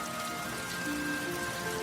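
Steady rain falling and pattering on surfaces, a continuous even hiss with no talk.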